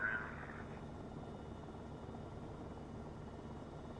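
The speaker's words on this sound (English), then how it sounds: "helicopter 816 is departing the helipad" Helicopter 816 departing a backcountry helipad at a fly-in, a steady broadband engine and rotor roar holding at constant loudness throughout, with a brief higher tone at the start.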